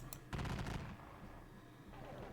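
A brief ragged volley of British musket fire crackles in a Battle of Waterloo wargame, one sharp burst followed by fading echoes, faint and distant in the mix.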